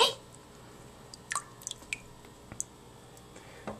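A single almond gently placed into a container of water gives a few faint, soft plinks and drips, close by in a quiet room.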